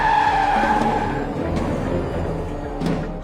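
A car brakes hard to a sudden stop on a road, tires squealing in a steady, close screech that holds for a few seconds, then eases off.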